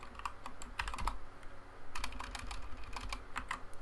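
Rapid typing on a computer keyboard while writing code, a steady stream of close, crisp key clicks with no pauses and no talk.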